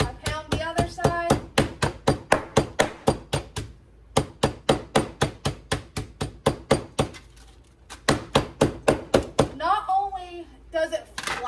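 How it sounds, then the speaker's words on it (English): A meat mallet pounds meat on a board for a Southern home meal, a fast run of loud, sharp thuds in steady bursts with short pauses between them, while a voice talks briefly near the start and end. "I literally just pound it, I flip it, I pound the other side."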